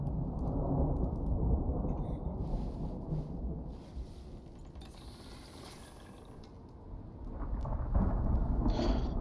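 A thunderstorm rolls through the survival game Icarus, with a steady broad rumble of rain and wind that swells loudly at the start, eases through the middle and builds again near the end, with no voices.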